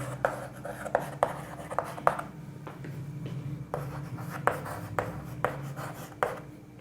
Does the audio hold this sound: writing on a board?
yes